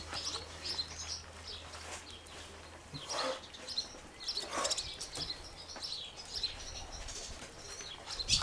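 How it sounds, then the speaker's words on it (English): A small bird close by flutters its wings and chirps in quick, high bursts over a soft, steady background hiss. "With little bird sitting on top of it as well."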